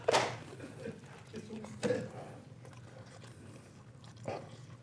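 Someone chews a spicy pepper, with a few crunchy bites standing out clearly and quieter mouth noises in between.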